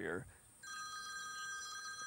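A mobile phone rings from a call placed by another phone, giving a steady electronic trill that starts after a brief spoken word and continues clearly and close to the end.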